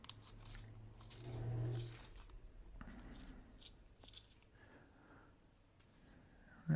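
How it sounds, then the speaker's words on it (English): A pencil being sharpened, a few soft scraping, shaving strokes followed by a brief louder grinding burst, faint and close with no voices. "Let's sharpen this pencil."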